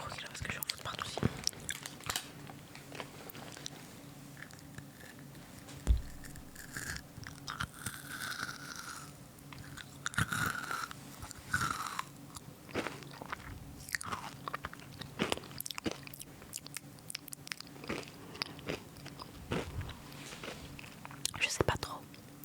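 Close, crisp crunching of cherry-flavoured rock candy being bitten and chewed, rhythmic bites and cracks repeating under soft whispered talk throughout.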